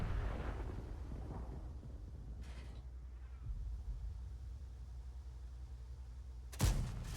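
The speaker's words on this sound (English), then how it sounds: "That's an engine bay shot on the 907." A tank shell strikes the engine bay of an Object 907 in a tank battle video game, a deep rumbling blast that fades into a low roar, followed by a sharp, loud impact crack near the end.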